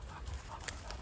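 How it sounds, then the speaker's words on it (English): Dogs pant on an icy walk through vineyards, a soft, quick rhythmic breathing close by, faint against outdoor background noise, with no talk. "The dogs just absolutely love it up here."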